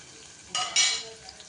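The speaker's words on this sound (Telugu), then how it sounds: "ఉల్లిగడ్డ పచ్చిమిర్చి ఇట్లా మంచిగా కలిపేసుకుందాం" Sliced onion and green chilies frying in a pan for a spicy chikkudukaya curry, heard as a quiet background sizzle broken by two loud bursts of stirring and scraping.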